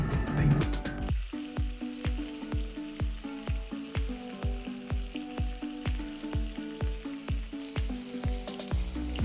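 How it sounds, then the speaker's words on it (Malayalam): Chicken shallow frying in butter in a pan, giving a steady sizzle with regular rhythmic pulses repeating every fraction of a second, close and moderately quiet. "ബട്ടർ ഒഴിച്ച് അതിലേക്ക് ഇങ്ങനെ ചിക്കൻ വെച്ച് കൊടുക്കാം"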